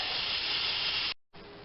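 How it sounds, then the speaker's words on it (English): Steam from an Instant Pot quick release, cooking eggs and liver, blasts out as a loud, continuous, close hiss, cuts off abruptly for a moment, then resumes just as strongly. "We'll do a quick release of the steam"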